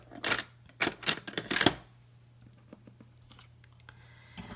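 Paper is cut with a pair of snips in a short run of crisp, close snipping strokes, four or five quick cuts in a row, followed by quieter faint rustling and handling.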